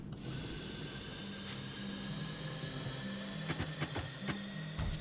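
A medium printer in Astroneer hums and whirs mechanically as it prints, a steady tone punctuated by a cluster of quick clicking, ratchet-like ticks toward the end.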